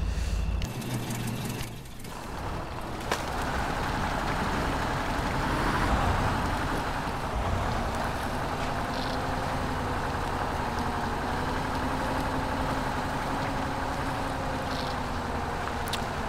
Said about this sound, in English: Yeah, we did leave this engine running, didn't we?